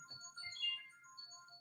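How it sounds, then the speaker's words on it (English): A phone rings faintly in the background, a soft repeating electronic ringtone melody with steady tones running through the whole moment, low and distant. "My phone is ringing in the background."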